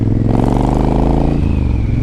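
A 2013 Triumph Thunderbird ABS motorcycle engine runs with a loud, close, steady rumble whose pitch lifts slightly before settling back.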